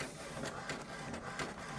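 An HP DeskJet 2827e inkjet printer works through a document, giving a steady mechanical whir with repeated soft clicks and faint paper-feed pulses, moderately close and with no voices.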